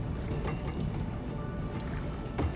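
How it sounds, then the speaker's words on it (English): A monorail in the video game Azur Bay rumbles past in a continuous low, noisy drone with faint rattling, loud and steady throughout with no break and no talk over it. "Man, the monorail's noisy."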